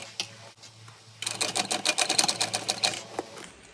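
A sewing machine topstitching a tote bag, running in a steady rapid burst after a quiet start, close and fairly loud with no talking.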